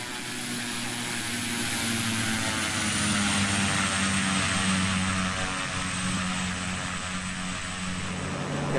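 A Pilatus PC-12 turboprop engine drones steadily in a flight simulator game, a loud continuous hum with a high whine layered over a low propeller throb and no talking.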